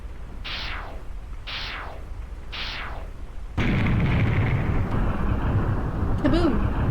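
Video game explosions in 6 Days a Sacrifice: three booming blasts with falling tails come at a steady, even pace, then give way to a loud sustained rumbling roar, with a voice speaking faintly near the end.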